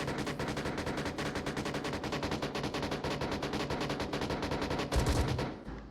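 Sustained rapid automatic gunfire in the Onward VR shooter, a dense, loud machine-gun rattle that holds steady for about five seconds before a heavier burst and a fade.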